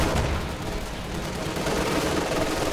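Soldiers' rifles and a machine gun fire steadily in a Company of Heroes 2 battle, a dense, continuous crackle of overlapping gunshots with no pauses, moderately loud throughout.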